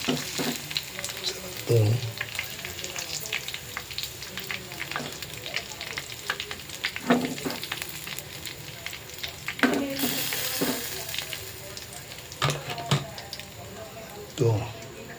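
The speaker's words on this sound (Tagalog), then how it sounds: "sangag tayo ng kanin with bawang na gamitin natin" Garlic fried rice sizzles steadily in hot oil in a pan, a continuous crackling hiss with occasional scraping stirs, while a person speaks briefly now and then over the cooking.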